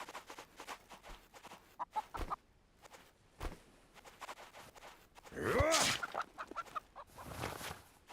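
Several short clucks come from a chicken in the medieval survival game Nested Lands, mixed with game footsteps and a louder squawking burst near the end, with no one speaking.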